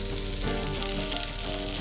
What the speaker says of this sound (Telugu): బఠానీ, ఉల్లి కొద్దిగా వేగాలి.